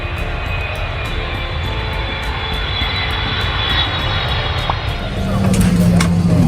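A VietJet passenger jet's engines roar steadily inside the cabin as the aircraft starts rolling, with a deeper surge of engine noise building near the end and voices talking beneath.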